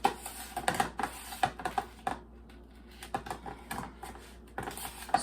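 Butter and sugar creamed by hand with a big fork, giving rapid, uneven scraping and clicking strokes in a bowl, close and fairly loud, with brief pauses between bursts.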